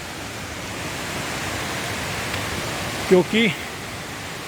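Steady broadband rush of a mountain waterfall beside a trail on a foot pilgrimage route from Gangotri to Kedarnath, constant and fairly close throughout, with a brief spoken word near the end.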